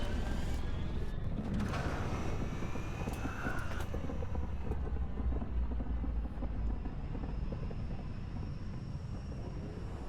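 A large ship in a video game comes in to land, giving off a loud, steady roaring engine rumble with a whine that builds and then settles, close and continuous throughout.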